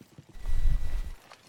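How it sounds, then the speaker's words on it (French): Horse hooves clip-clop in the game LIFE, a short run of several steps at moderate distance, fairly loud for about a second and then fading. "entendez qu'un seul cheval, c'est moi"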